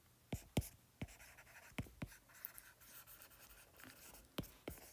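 Pen strokes scratch across paper while a solution is written out by hand, with sharp taps and scratchy bursts spread irregularly over several seconds, close and fairly quiet.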